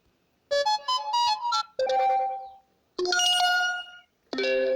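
A Messenger ringtone previewed on a phone, playing clear bright electronic melodic phrases in three separate bursts with short silences between, loud and close with no talk.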